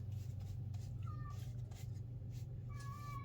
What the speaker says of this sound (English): That's Hammy, the cat, in the other room.